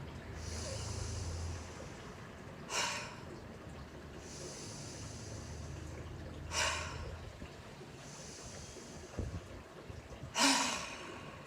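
Slow, rhythmic breathing during a yoga shoulder exercise: several long, soft breaths in and out, interrupted by a few sharp, breathy exhales, close and fairly quiet with no talking.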